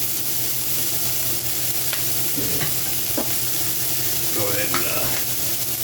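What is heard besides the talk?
onions frying in bacon fat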